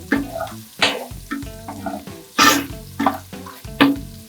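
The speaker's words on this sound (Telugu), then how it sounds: "మంచిగా ఫ్రై అయ్యే వరకు మిక్స్ చేసుకోవాలి" Ginger paste and chopped onion sizzle in hot oil in a pan, with repeated scraping stirs every second or so, each stroke bringing a brief burst of crackle over a steady low fry.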